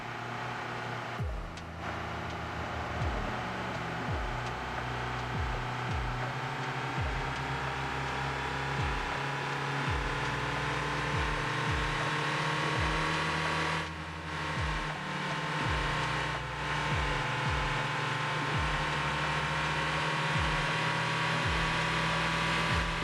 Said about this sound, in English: I'm busy driving fast